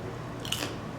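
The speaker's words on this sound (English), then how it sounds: "I'm snacking on some Thai coconut pancakes from Trader Joe's." Crunching on Trader Joe's Thai coconut pancakes, small sweet coconut ball snacks: one brief, close crisp bite near the middle of an otherwise quiet moment.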